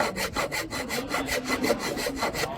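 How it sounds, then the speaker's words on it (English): A hand file works a cut into a curved shape with steady back-and-forth rasping strokes, about five per second, close and even with no talking. "I will recommend you to use this, we call it file, to trim it to get the curve shape"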